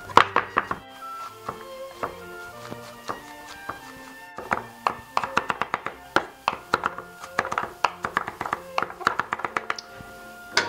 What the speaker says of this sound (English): I am going to actually chop these up first fine